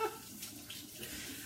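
Water runs steadily from a kitchen sink tap while a bowl is washed beneath it, a continuous near splashing hiss that stays even for the whole short stretch with no voices.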